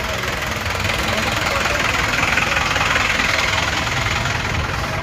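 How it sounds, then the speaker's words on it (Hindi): A tractor engine idles at the Ghazipur border on a cold night, a loud, close, steady knocking rumble that runs unbroken throughout. "ये ट्रैक्टर मैंने आपको पीछे दिखाया था, वही 10 कदम भी नहीं चला कि यहाँ पर आकर फिर रुक गया।"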